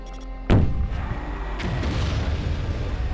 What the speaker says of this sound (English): I would like to catch these guys with a grenade, but they're never close enough together